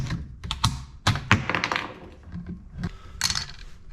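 A Mauser bolt-action rifle has its bolt worked by hand, with a series of close metallic clicks and thunks as the bolt opens, slides and closes, cocking on the final stroke.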